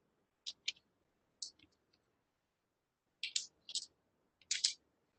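Keys on a computer keyboard clack in short bursts while code is typed, a few quick taps, a pause, then three louder clusters, close and crisp in an otherwise quiet room.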